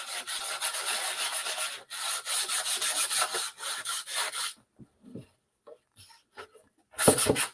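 A wooden serving tray finished in Fusion milk paint is sanded by hand, with loud, rhythmic rasping strokes that break off midway into scattered light taps and rubs before one last burst of strokes.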